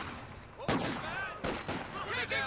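MG42 machine gun fire in the Company of Heroes 2 strategy game, a few sharp bursts of gunfire at moderate distance over battlefield noise, sounding as separate crackling volleys.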